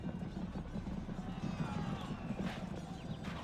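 Cavalry horses gallop in a battle in the video game Rome: Total War, a dense rolling clatter of many hooves, steady and moderately loud with faint background battle noise.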